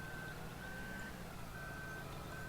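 Steady reversing beeps from a Lizard semi truck in Farming Simulator 2013, a high repeating tone over a constant loud engine rumble, alone without talk.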